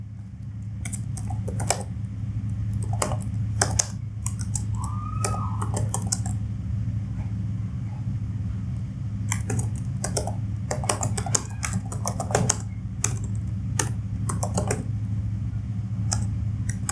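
Rapid computer keyboard typing in bursts of clicks and key taps, moderately close, over a steady low hum, with no one talking.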